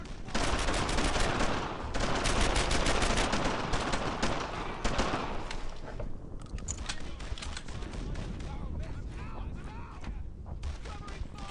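Dense gunfire from the World War II shooter Brothers in Arms: Earned in Blood, with rapid machine-gun bursts and rifle shots, loud and almost continuous at first, then thinning to sporadic shots beneath shouted voices.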